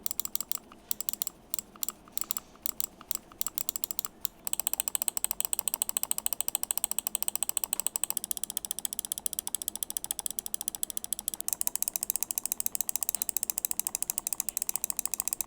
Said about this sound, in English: There are times when I rapidly click the Pulsar and it doesn't always actuate every time.